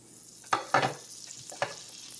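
Oil and butter go into a hot pan while cooking a chicken persillade, with a few soft spatters and stirring scrapes in quick bursts over a quiet background.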